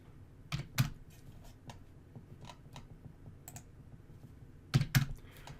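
Bursts of computer keyboard typing while entering values into a modeling program, with clustered keystrokes near the start and end and quieter scattered clicks in between, close and fairly soft, no voices.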